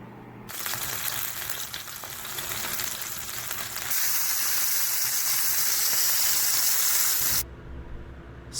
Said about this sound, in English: Now I just cook the pork chop.